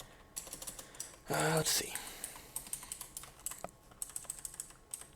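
Computer keyboard typing while writing code, a quick run of close, crisp key clicks in uneven bursts, with a brief spoken remark partway through.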